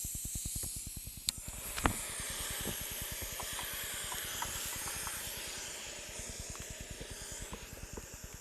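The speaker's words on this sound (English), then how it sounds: "I've got my stove set up here. I just have to light it" A camping stove burns with a steady hiss and a rapid rhythmic pulsing flutter, with a couple of brief clicks near the start, all close and fairly quiet.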